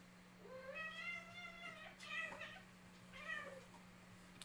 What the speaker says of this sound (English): my two cats